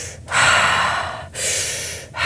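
A person imitates an animal's deep belly breathing after trauma: two long, loud, close breaths, each a sustained airy rush separated by short pauses, with a third breath beginning at the end.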